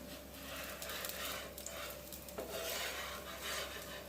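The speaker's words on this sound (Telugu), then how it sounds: "టర్న్ చేసుకుంటున్నాను ఇప్పుడు దోశని." A dosa scraped and flipped on a lightly oiled pan, giving a steady close rasping scrape with a soft sizzle underneath, a brief sharper scrape midway, no voices.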